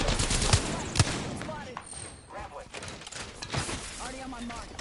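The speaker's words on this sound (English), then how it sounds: "That guy's gun fired instantaneously." Gunfire in Apex Legends, sharp shots and short bursts cracking near and loud amid game effects, with a voice talking in between.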